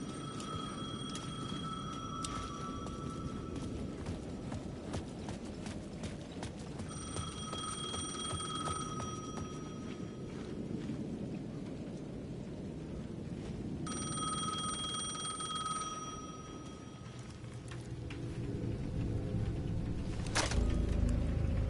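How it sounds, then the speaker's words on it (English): A payphone rings in repeated bursts inside a video game, its bright electronic trill loud and close, separated by stretches of ambient game noise with no voices. "The payphone at the edge of the plaza was ringing again."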